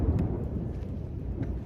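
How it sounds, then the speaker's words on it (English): Thunder, a low continuous rolling rumble heard alone and fairly loud throughout, with a faint rain-like hiss over it. "to how that thunder came?"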